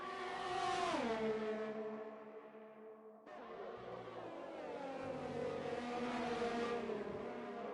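Formula 1 race car engines in a racing video game, Belgium round, as cars run at full speed with DRS open and an Alfa Romeo overtakes a Ferrari; high-pitched engine whine drops in pitch, cuts out, then a second car roars past.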